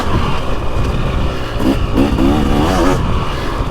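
A 2023 Husqvarna TX300 two-stroke dirt bike with WP Pro Components suspension roars close and loud along a long woods loop, its engine holding a steady drone with rising revs and throttle surges.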